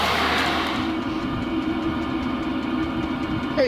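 A 5kW Chinese diesel heater runs outside a Renault Trafic campervan, giving a steady droning mechanical hum with a low rumble. It is heard alone, with a faint click at the end.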